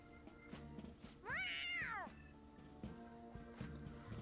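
A cat in the video game Persona 5 Royal gives one clear, rising-then-falling meow lasting under a second, set against a soft, steady backdrop of game sound.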